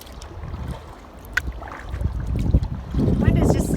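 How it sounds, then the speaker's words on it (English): Wind picking up over a lake in Temagami, a steady low rumble of gusts buffeting the microphone, growing stronger toward the end. "Wind is just starting to pick up a little bit"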